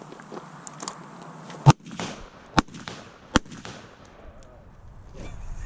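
Three sharp, loud rifle shots fired at a 60-yard range, spaced about a second apart, each with a short echoing tail over low background murmur and faint voices.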